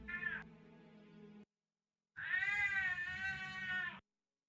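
Two drawn-out cat meows, the first a short rising cry that trails into a lower tone and the second a longer, strong wail after a brief pause, close and fairly loud with no talking.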